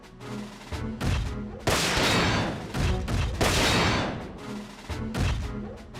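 Loud turret gunfire in the mech game Front Mission 4, rapid repeated bursts with two long heavy sustained volleys in the middle, close and dominant with no talk.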